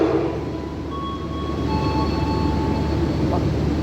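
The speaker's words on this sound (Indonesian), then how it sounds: "KA Tawang Jaya melintas langsung stasiun Jatinegara" KA Tawang Jaya train running straight through Jatinegara station without stopping, a loud, steady close rumble of wheels and cars with faint tonal whines and squeals riding on top.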